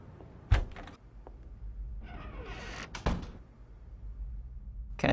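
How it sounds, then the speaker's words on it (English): In the video game Unheard, a door opens with a sharp knock, a creaking, scraping swing and a thud, followed by another bang, set against quiet room ambience. "Oh, the door was open here. You could hear it."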